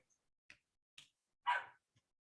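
A puppy gives a few faint, short barks and yips, spaced apart, the last one slightly longer, heard alone in a quiet room.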